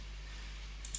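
A couple of soft mouse clicks while saving a file on a computer, brief and faint against a low steady hum, with no one talking.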